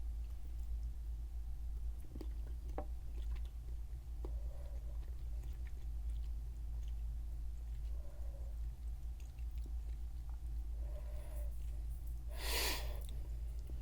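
A small chocolate bar from a packaged snack is chewed close up, with quiet, scattered mouth sounds and a few brief bursts over a low steady background hum.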